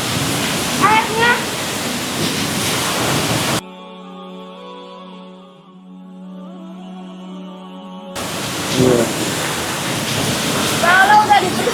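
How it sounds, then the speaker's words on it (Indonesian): A mountain river rushes with a loud, steady broadband roar; the flow drops out briefly midway, then returns, and people talk over the water. "Jadi ini sungai dari gunung"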